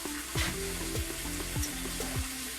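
Oxtails browning in a hot pan beside sautéing vegetables make a steady close sizzle, with a few sharp scrapes and stirs from a utensil and no talking.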